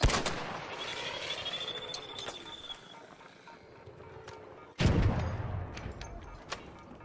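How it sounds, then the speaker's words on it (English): A grenade bursts in a video game with a loud, sharp boom about two thirds of the way through, amid ongoing gunfire-like game noise and a crackling, rumbling backdrop. "That was a pretty good grenade."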